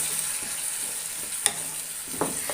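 Raw dates pickle with vinegar stirred in a pan: a steady low sizzle under a few soft scrapes and one sharper clink of the spoon, nobody speaking.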